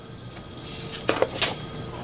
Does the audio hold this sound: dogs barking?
no